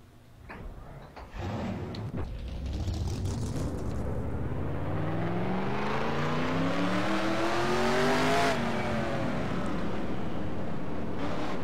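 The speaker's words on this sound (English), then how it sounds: "Drivers, start your engines." Race car engines in NASCAR Racing 2003 fire up and rev, a close, loud mechanical roar climbing steadily in pitch over several seconds before dropping back briefly and holding, with no talk.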